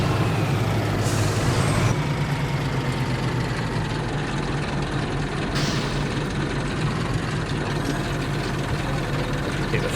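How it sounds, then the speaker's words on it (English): Heavy truck in Farming Simulator 22 rumbling steadily toward the oil mill, a loud low engine drone with an air-brake hiss near the start and another burst midway. "I'm going to run the truck over and drop it in the oil mill quick"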